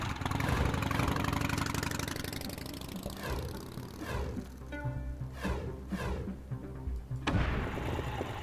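A motorcycle engine in the video game Gabriel Knight 3 chugs with a mid-pitched rumble that swells and fades in uneven revving pulses, fairly close, with no talk.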